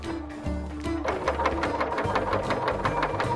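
Close, loud sewing machine gathering fabric through a gathering foot with differential feed, starting up after a brief pause and settling into a rapid, even mechanical chatter of stitches.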